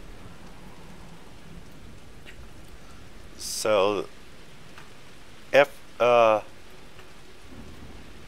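Steady rain and low thunder rumble from a video game storm, a soft continuous hiss underneath while someone speaks a few short phrases over it.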